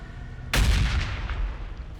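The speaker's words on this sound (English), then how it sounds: "And a nice explosion at the end." A sudden explosion bursts out in a Warhammer 40,000 video game battle between Necrons and Orks, a loud booming blast with a sharp onset and a rumbling decay trailing off over a couple of seconds, with no voices.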